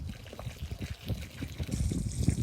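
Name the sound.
pouring fish tank water onto dry soil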